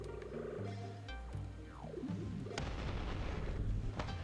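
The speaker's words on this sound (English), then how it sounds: "Why are they shooting me again?" Gunfire aimed at the player in the video game Lunar Lander Beyond: sharp booming shots and a descending whistle over dense game noise and music, with several loud impacts spread across the stretch and no talking.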